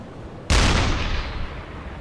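A U-boat deck gun fires once at a British ship in choppy seas in a video game, a single loud sharp blast with a rumbling tail that fades over the following second and a half.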